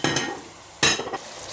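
Tomatoes tipped into a hot frying pan and stirred while cooking for aloo, saag and anday, giving two bursts of sizzling and scraping over a steady background fry.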